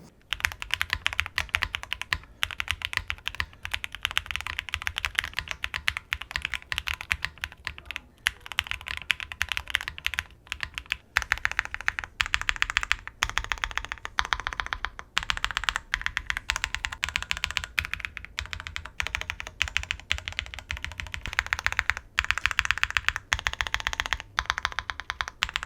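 Continuous fast typing on an entry-level tenkeyless mechanical keyboard filled with polyfill, with dense, even clacking keystrokes close up and no talking.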